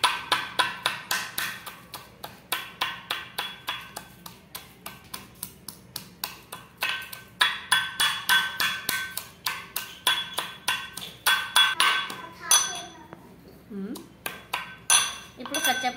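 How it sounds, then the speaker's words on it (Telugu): Garlic cloves pounded for masala in a kitchen, a brisk series of sharp, hollow thuds in steady rhythm, nearby and fairly loud, slowing and breaking off near the end with a brief voice. "ఇప్పుడు ఇందులోకి అయితే మసాలా అయితే దంచుకుంటున్నానండి. ఫస్ట్ ముందుగా వెల్లుల్లి రెబ్బలు అయితే వేసుకున్నా."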